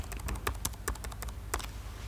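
Keys clack on a PC keyboard as a new PIN code is typed, a quick run of a dozen or so crisp close taps at uneven spacing in a quiet room.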